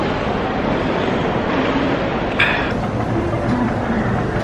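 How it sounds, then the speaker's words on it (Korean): Inside the Hong Kong AEL Airport Express train during a ride, a steady loud rumble of wheels and carriage noise with a brief higher rattle partway through. "저는 이제 AEL 열차 타고 이제 숙소로 먼저 가려고 해요."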